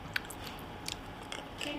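Chewing a raw oyster at close range, with a few soft, moist bites and squelches spread unevenly over a quiet background, no talking.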